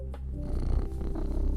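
A cartoon cat in the cleaning video game Cozy Cleaner purrs in a soft, steady low rumble, close and continuous, with faint background game ambience.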